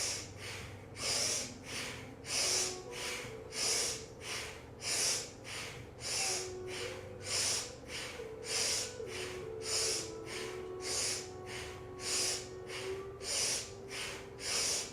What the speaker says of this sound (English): breathing in and out through the nose, clearing some dense, stuck energy in the shoulder blades